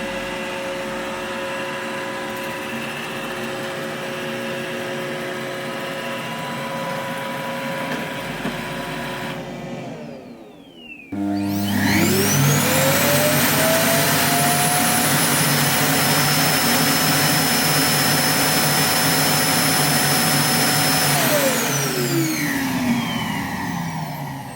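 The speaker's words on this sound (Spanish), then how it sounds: "cuando llega a la base de carga te pega un chupado ahí impresionante que hace un ruido que no veas" An iRobot Roomba i7+ sits in its charging base while the base station empties the robot vacuum. A steady machine hum cuts off, and then a loud whining suction surges up. Its pitch climbs and holds as a strong roar, then winds down at the end.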